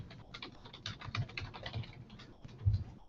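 Rapid, irregular keystrokes on a computer keyboard while entering a named dimension value in Autodesk Inventor CAD software, close and moderately loud, with a few heavier key thumps near the end and no talking.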